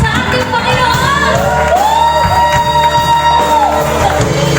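A church congregation at a Sunday healing and worship service shouts and cheers to the Lord, a loud, sustained roar of many voices with whoops rising above it.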